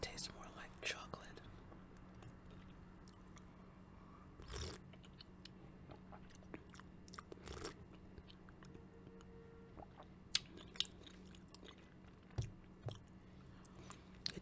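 Close, soft chewing and biting of balsamic chicken, with small crunches and moist squishes coming at irregular moments over a quiet background hum.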